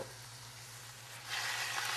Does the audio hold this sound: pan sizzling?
yes